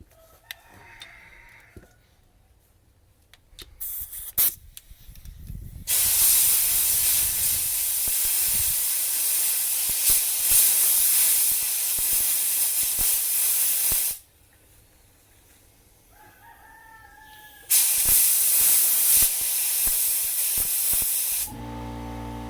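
Compressed air blasting debris out of the spark plug threads on a Triton V10 engine during a Timesert repair, two long loud hissing bursts, the first about eight seconds and the second about four, with quiet clicks and tool noise before and between.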